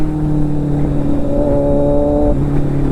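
Kawasaki Z900 motorcycle engine held at a steady, loud idle-to-mid rev, a close continuous drone with a slight pitch drop near the end as the throttle eases.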